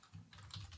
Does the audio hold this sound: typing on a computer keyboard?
yes